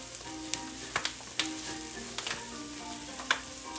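Onions frying in a pan until translucent, giving a steady, dense sizzle throughout with occasional sharper pops and spits, close and continuous with no voices.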